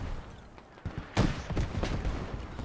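Gunfire in the tactical shooter Squad during a competitive esports grand final: a few loud, sharp bursts close by, the biggest about midway through, with scattered shots trailing after it.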